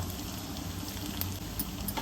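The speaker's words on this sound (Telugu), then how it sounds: "ఆవాలు వేసా, ఎండుమిర్చి, అలాగే ఒక 5-6 వెల్లుల్లిపాయలు దంచి వేసాను." Mustard seeds, dried chillies and crushed garlic temper in hot oil for a school meal, producing a continuous close frying hiss with small pops, steady and without talk.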